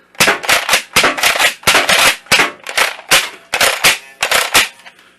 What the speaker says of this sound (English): Does appear to have some sort of a slam fire